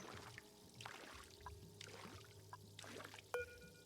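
Water pours and trickles in the video game Oxygen Not Included, with soft recurring splashy bursts and a brief sharp tone near the end, all fairly quiet.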